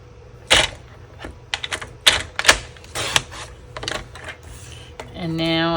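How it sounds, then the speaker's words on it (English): Paper trimmer slicing a strip off cardstock at a card-making desk: a run of sharp clicks and rasping slides, close and crisp, then a bright sustained ringing tone near the end. "So I'm going to cut a little bit off of here."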